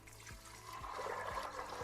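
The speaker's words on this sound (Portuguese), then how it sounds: "E aí eu vou cobrir com água." Water poured into a pot to cover chickpeas soaked with baking soda for hummus, a steady rushing pour that builds and thickens over a couple of seconds, close and moderately quiet, with no voices.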